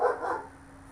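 A pet dog gives a short, fairly close bark or yip right at the start, which fades into quiet room tone.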